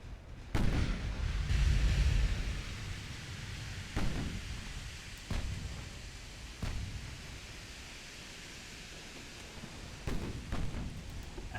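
Naval guns fire high-explosive rounds in the warship game Ultimate Admiral Dreadnoughts: several heavy booming shots spaced a few seconds apart, each with a rumbling tail, over a constant noisy background of sea and wind.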